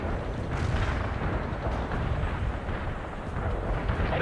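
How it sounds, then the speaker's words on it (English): Heavy artillery barrage in the war strategy game World in Conflict, a dense, continuous rumble of overlapping explosions and booms holding steady and loud throughout. "Heavy artillery barrage inbound."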